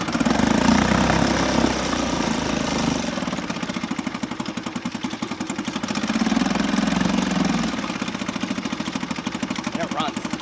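A 1968 Sears Clinton 3.5 hp outboard motor runs steadily close by, its rapid, rattly small-engine chug rising and falling in revs, with someone talking briefly over it near the end.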